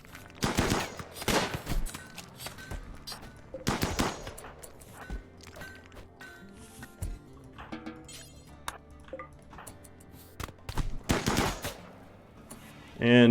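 Gunfire in the video game RimWorld: several sharp bursts of rapid automatic fire and scattered single shots, separated by quieter gaps with faint pings and ticks.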